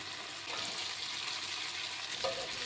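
Jackfruit seeds tipped into spiced masala frying in a pan, giving a steady close hiss and crackle with a brief brighter sizzle burst near the end.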